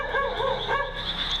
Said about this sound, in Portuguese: enquanto o dog late ao fundo